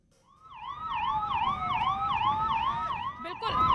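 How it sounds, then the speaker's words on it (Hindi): An ambulance stuck in a long traffic jam on the DND flyway wails with a steady, rapidly cycling siren, loud and close, over a low rumble of idling traffic. "ये आप देख सकते हैं कि एम्बुलेंस यहाँ पर काफी देर से फंसी हुई थी"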